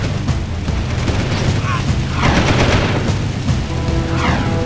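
Peacemaker gun blasts in Jak II, booming game weapon fire packed into a dense, loud stretch of chaotic action with overlapping explosions and a voice talking over it.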